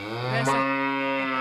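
A voice imitates a buffalo's moo, a single long, nasal, drawn-out lowing held for over a second, loud and close, with nothing else heard.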